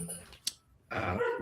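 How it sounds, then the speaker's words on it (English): Daisy the dog barks in the background, short and muffled at a distance, with brief voiced bursts that could also be people talking. "she's barking away in the background"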